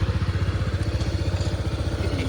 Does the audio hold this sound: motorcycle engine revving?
yes